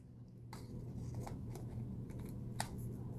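Small crisp clicks of a KastKing Speed Demon Pro baitcasting reel part snapping into place, a few sharp close plastic-and-metal ticks over a low hum.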